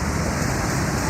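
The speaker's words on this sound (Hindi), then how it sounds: "कराची में 86 मिलीमीटर तक बारिश हुई तो पूरा शहर डूब गया।" Heavy rain pours down in Karachi as a dense, steady, close roar of falling water with no voices.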